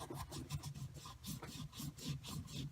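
Steady rhythmic rubbing of an alcohol-dampened towel over glued fabric, close and fairly faint, with repeated short strokes in an even back-and-forth pattern.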